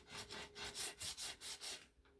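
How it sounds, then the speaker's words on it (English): Rhythmic back-and-forth strokes of sanding on a guitar neck's first fret during a fret dressing job, about seven even passes, close and fairly quiet with no voices. "always sand this first fret more"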